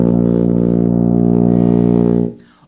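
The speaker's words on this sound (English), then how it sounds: "The tuba sounds like this." A tuba holds one loud, deep open B flat with no valves pressed, a buzzy sustained brass tone lasting a little over two seconds before it stops.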